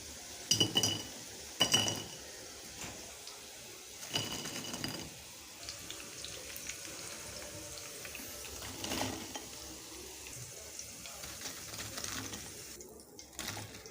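Potato snack bites are lifted out one by one and placed onto a plate, making scattered clinks and scrapes of utensils against the dish, with a few sharper knocks near the start and quieter handling afterward.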